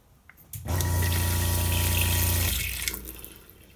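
Water gushes from the tap into the sink of a coffee trailer, starting abruptly, running as a loud steady stream for about two seconds and then shutting off.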